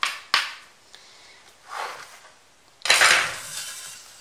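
A knife chops lettuce for a Thai beef salad on a cutting board, a few sharp isolated knocks and scraping cuts spaced irregularly, close and fairly quiet, with no voice.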